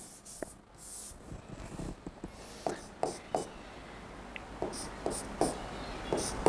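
Marker or chalk writing on a board during a chemistry lecture, a run of short scratchy strokes with small taps, fairly close, over a quiet room hum with no talking.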